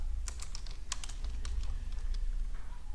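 Rapid keystrokes on a computer keyboard while entering data in an MS Excel spreadsheet, a steady run of close, crisp clicks over a low background hum.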